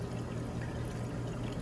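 Water from a water-tower top-off trickles steadily into a saltwater aquarium, a continuous close pouring wash with no talk.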